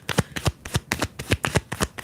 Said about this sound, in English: I'm sorry if the shuffling is loud.